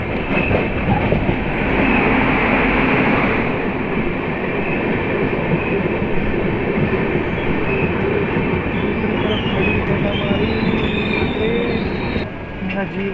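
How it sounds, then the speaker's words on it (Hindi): A Siddhabali Jan Shatabdi Express train pulls into Haldor station, a loud, steady rumble of wheels and carriages with metallic squeals and clatter throughout, easing slightly near the end. "Train is arriving at Haldor."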